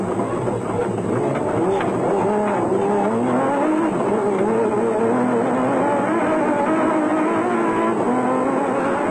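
A Ford off-road race vehicle with failed power steering roars continuously along a twisty track in Sun City, South Africa, its engine loud and close, pitch rising and falling through the bends, with commentary talking over it.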